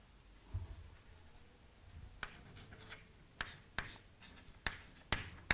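Chalk tapping and scratching across a classroom board while a chemical equation for hydrogen and chlorine is written, a series of short sharp strokes and taps that grow more frequent toward the end, close and fairly quiet with no talk.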